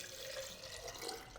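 Water pours from a pitcher to fill a milk maker for coffee walnut milk, a faint steady trickling stream close by with no talking.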